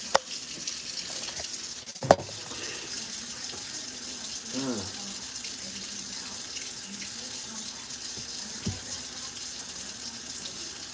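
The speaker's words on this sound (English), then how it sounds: "these dishes aren't going to clean themselves" Tap water running into a sink while dishes are washed, a continuous splashing stream with occasional clinks and knocks of dishware and a few faint spoken words.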